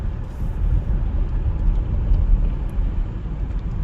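A 1994 Lexus GS300 with a 4-speed automatic, driving along: a steady low engine and road rumble fills the cabin, continuous and moderately loud, with no voices.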